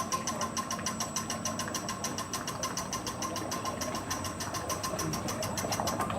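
A frozen dessert machine runs with a fast, even mechanical chatter and steady motor whir, its handle returning, close and continuous without speech.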